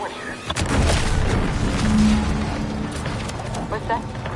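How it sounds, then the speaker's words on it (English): A deep, rumbling boom rolls out in The Outer Worlds 2 and lingers as a loud, sustained roar for several seconds, with a voice speaking over it. "What's that? An explosion?"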